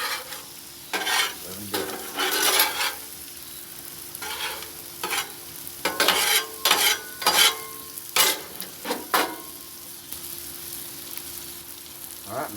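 Smash burgers and fries sizzle on a Blackstone 22-inch griddle, with steady frying hiss broken by bursts of scraping and spatula stirring that come and go through the clip, plus a brief spoken remark near the start.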